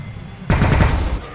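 A sudden, loud burst of rapid gunfire from a Warhammer 40000 Battlesector battle breaks in after a quiet lead-in and rattles on to the end.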